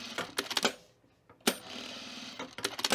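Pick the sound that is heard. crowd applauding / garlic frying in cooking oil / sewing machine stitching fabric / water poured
sewing machine stitching fabric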